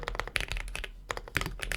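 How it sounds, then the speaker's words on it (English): Quick, close clatter of fingers typing on a computer keyboard, a rapid run of keystrokes with one brief pause midway. "I'll show you guys what I'm typing"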